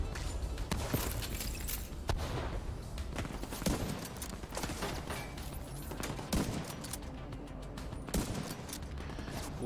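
Shock-round gunfire in Division 2 bursts repeatedly over a dense, noisy game soundscape, with sharp reports landing at irregular intervals amid continuous rumble and clatter.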